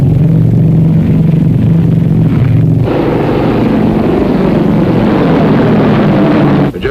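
A propeller aircraft on its landing approach to a runway, in a 1950 film, drones loud and steady throughout with a rumbling engine tone and a shift in pitch midway.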